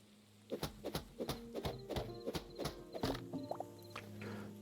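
A horse in the video game Hytale steps along with a quick run of hollow hoof clops, fairly close and steady in rhythm, with no one talking.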